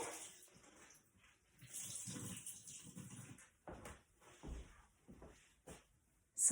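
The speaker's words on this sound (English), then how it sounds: "Now I'll wring it out." Water splashes and drips as a soaked cloth is twisted and wrung out, a series of close, wet bursts with short pauses between them.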